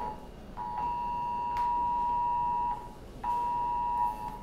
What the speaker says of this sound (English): that's an Amber Alert on my phone